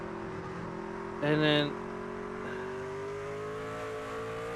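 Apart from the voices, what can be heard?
race truck engine and braking in iRacing video game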